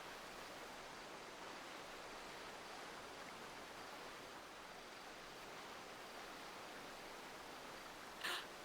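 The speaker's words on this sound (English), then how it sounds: "I am currently walking by the creek to clear my thoughts" Creek water flowing steadily in a GTA V roleplay game world, a faint, even rushing wash with no breaks, ending in a brief sharp click.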